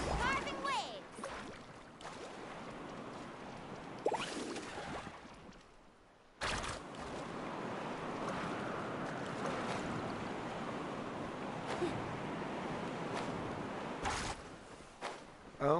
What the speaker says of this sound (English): Carving waves!